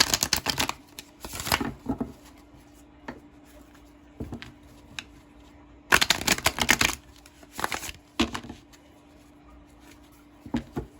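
A deck of tarot cards being shuffled: several loud, close riffling bursts that start and stop irregularly, separated by quieter pauses holding faint taps and handling noise, with no talking.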